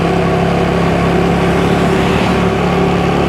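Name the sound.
car driving around island near El Nido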